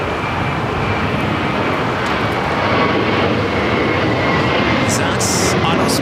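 An airliner on runway 25 right at LAX gives off a loud, sustained jet roar that stays continuous throughout, with faint higher sounds near the end.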